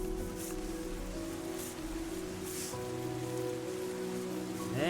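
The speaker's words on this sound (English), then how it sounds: "So there we go. Rain's starting." Steady rain falls in the video game Terra Nil, a constant soft hiss of drops at moderate level with faint tonal music underneath throughout.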